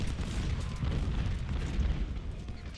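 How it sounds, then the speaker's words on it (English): Artillery batteries firing in the Civil War strategy game Ultimate General: Civil War, a dense run of deep booms and rumbling blasts that blur into a steady low barrage with no clear gaps. "We have the artillery firing on those guys."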